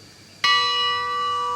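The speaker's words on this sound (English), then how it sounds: "So what we've got is a modern bell that's harmonically tuned" A modern harmonically tuned bell, pitched around the note B, strikes once with a sharp onset and then rings on steadily, its bright overtones sustaining loud and clear with no talk over it.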